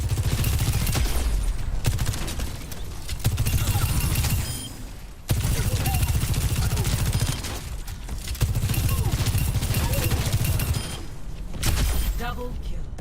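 Bursts of heavy gunfire in Overwatch 2 come in repeated volleys of several seconds each, with short gaps between them, loud and close against game noise, with a voice talking over parts of it.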